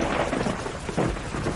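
A heavy storm in a tribal sci-fi story rolls loud, continuous thunder over steady rain, with a fresh thunderclap swelling near the middle and no voices.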